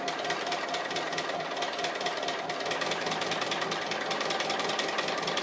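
A sewing machine runs steadily, stitching around the edges of an appliqué piece in a hoop; the rapid, even mechanical chatter fills the whole stretch without pause and sounds close and fairly loud, with no talking over it.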